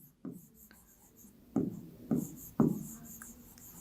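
Pen or chalk strokes writing out an inverse proportion maths problem about children and sweets, several separate close scratchy taps and strokes with short pauses, quiet and alone.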